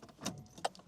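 A key turns in the lock of a Mercedes-Benz 190E with 34,000 km on it, making two quick, close metallic clicks with a light jangle of keys between them.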